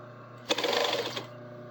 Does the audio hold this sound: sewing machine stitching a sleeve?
yes